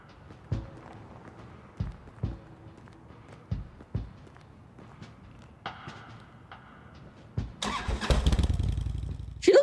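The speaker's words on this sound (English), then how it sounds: "She looks so tiny when she's on her motorcycle." A motorcycle engine starting in the video game Kathy Rain 2: a few soft thumps and clicks lead into a quick crank, then the engine catches and rises into a loud rumbling rev near the end.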